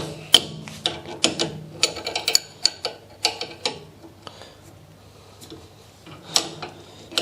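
A customer's bicycle wheel having its spokes tightened with a broken spoke under repair, a run of sharp, irregular metallic clicks and ticks close by, with quieter gaps between bursts.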